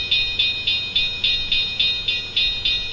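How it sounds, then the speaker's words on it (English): A railroad crossing signal sets off its bell once a train passes over an IR sensor. Evenly spaced, bright ringing strikes come about three or four per second, close and steady, with no voices. "a train passes over the IR sensor"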